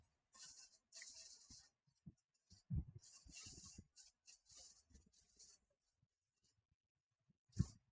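A pen or marker scratches across a board or paper during an accounting lesson, in short bursts of strokes separated by brief pauses, close and fairly quiet, ending with a single soft knock.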